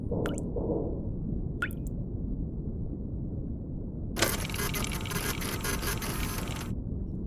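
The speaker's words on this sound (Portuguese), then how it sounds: "Então, você decide tirar uma foto." A camera shutter clicks and whirs during a photo taken in the submarine horror game Iron Lung, a short sharp snap followed by a sustained mechanical buzz lasting a few seconds, over a low steady rumble and faint drips.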